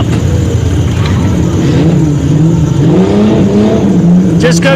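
A Jeep running front-wheel drive only, without its rear drive shaft, revs its engine at a mud bog. The loud, close engine note climbs and wavers steadily, with crowd or voices faintly underneath.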